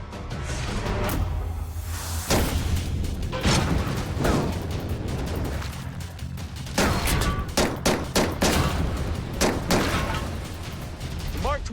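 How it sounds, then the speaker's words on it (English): A suppressed Mark 23 pistol fires a string of sharp, muffled shots at irregular intervals, some in quick pairs, with mechanical clacks of the action between them. "And I'm gonna fire it with this suppressor."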